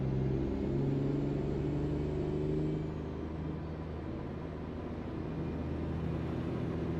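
A Mack Superliner truck hauling a load of logs in American Truck Simulator gives off a steady, low diesel engine drone with a deep rumble. It eases slightly quieter partway through and continues alone.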